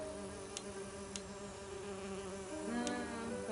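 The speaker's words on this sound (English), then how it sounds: "I need to subdue the bees first." Bees buzzing in an Agatha Christie And Then There Were None video game, a steady droning hum with wavering pitch, moderately quiet, with a few faint clicks and no voices.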